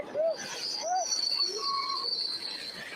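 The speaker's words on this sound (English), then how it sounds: "the back of the train's derailing" Train cars squealing and scraping as the back of a train derails, with high metallic wheel screech sustained over rumbling, clattering rail noise.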